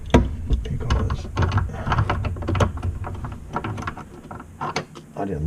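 A ratchet wrench clicks in quick, uneven bursts while fittings on a supply line are tightened, close and fairly loud with short pauses between strokes.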